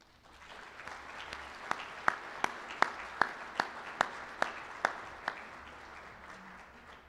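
Steady applause from an audience at an engineers' homecoming breakfast welcomes a speaker to the stage: a continuous wash of clapping with a few louder, distinct claps standing out near the front, then tapering off.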